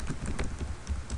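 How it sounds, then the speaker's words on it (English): Keys on a computer keyboard are tapped in a quick, uneven burst of short clicks, close and fairly loud, with no talking. "then you start typing"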